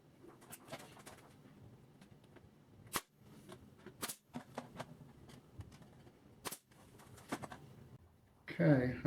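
A nail gun drives nails into a cedar planter box, with several sharp, loud pops spaced a few seconds apart, one of them a double shot, against low background noise and some voice.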